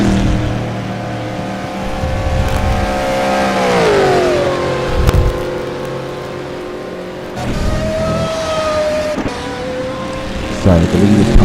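Sim-racing cars brake and accelerate through a chicane at Road Atlanta, engine pitches falling and then climbing again over several passes, with tire noise and a brief burst near the end, loud and close under faint commentary.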